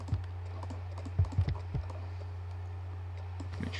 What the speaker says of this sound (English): I'm clicking the down arrow on my keyboard and it just moves it down a slight little bit